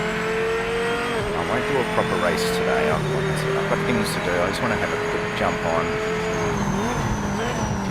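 A race car in Project Motor Racing on PS5 pulls clear of the pits, its engine droning and rising through gear changes with brief tire noise, all under steady talk from a man.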